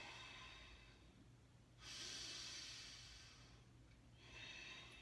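Breath during yoga practice comes as two slow, airy exhales through the nose, close and soft, each lasting a couple of seconds, with quiet room tone between them.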